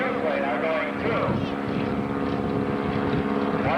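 An airplane flying aerobatic maneuvers at the 1991 Cleveland Air Show, a steady loud engine drone with shifting pitch under continuous announcer talk.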